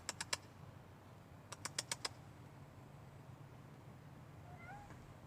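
A house cat named Chuck gives a quick burst of three short meows, then a run of four more a second later, faint and close in a quiet room.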